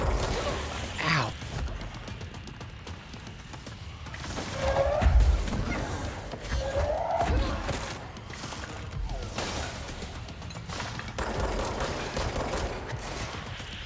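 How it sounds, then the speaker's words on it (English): Gunfire from the top-down action game Hotline Miami rattles in bursts amid clattering, crashing game effects and thumps, loud and busy over a background music bed. "Uh-oh, shots."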